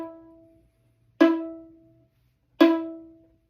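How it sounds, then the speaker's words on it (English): A bowed string instrument sounding a note on the D string stopped with the first finger, a clear tone repeated as three separate strokes, each attack decaying over about a second, fairly quiet and close. "That is exactly what it should be heard when you put the first finger on the D string."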